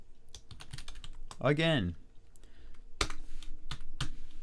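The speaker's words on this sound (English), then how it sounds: "I hit the up arrow on my keyboard" Keystrokes on a computer keyboard, including a press of the up arrow key, land as a few sharp, close clicks. They are spaced out between spoken words and a brief vocal sound.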